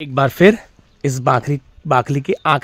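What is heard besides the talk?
No everyday noises stand out.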